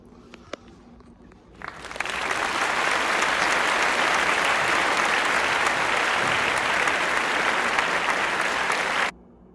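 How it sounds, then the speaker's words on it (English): An audience breaks into sustained applause after a brief quiet lead-in, steady and full for about seven seconds before cutting off abruptly. "Let's take a look and give them a round of applause."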